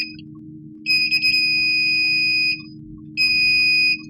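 A multimeter in continuity mode beeps while probing a shorted capacitor on a Samsung J2 Prime SM-G532G phone board: two loud, steady electronic tones, a long one and a shorter one, over a low hum.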